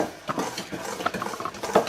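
A utensil stirs flour into batter in a bowl, giving soft, irregular scraping and light clinking taps over two seconds.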